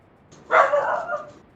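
A single short bark or yip from a dog in the EverQuest 2 game, fairly close and clear against a quiet background.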